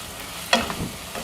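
Capsicum added to onions already softened and shrunk in a frying pan, stirred with a brief scrape and clink over a soft sizzle, close and fairly quiet, with no talking.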